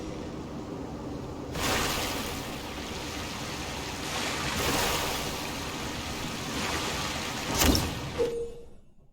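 A Waverider boat sails across open ocean waves in Genshin Impact, a steady rushing wash of water and surf with periodic louder swells and a sharp splash near the end, without any voices.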